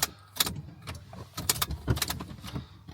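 An ignition key is turned in an old farm car, giving jingling keys and scattered mechanical clicks and short bursts up close. No steady engine run follows.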